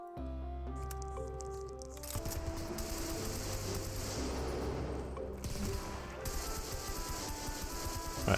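Rapid, sustained gunfire from a Godot zombie video game, dense bursts and fusillades hammering on continuously at steady loudness with no voices.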